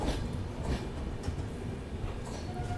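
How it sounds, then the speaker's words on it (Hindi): The Lucknow–Kathgodam Express rolls into Lalkuan Junction station, a steady close rumble of wheels and carriages with faint rhythmic clatter and a thin squeal near the end. "अपनी ट्रेन पहुंच चुकी है लाल कुआं जंक्शन रेलवे स्टेशन"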